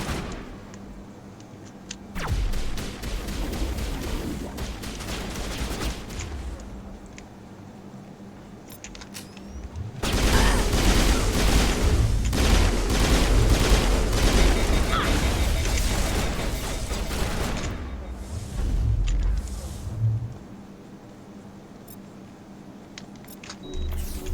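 Gunfire in the Mass Effect game, with bursts of rapid crackling shots clustered into a long intense volley in the middle, preceded and followed by quieter stretches with scattered pops and mechanical noise.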